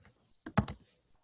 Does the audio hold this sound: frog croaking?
no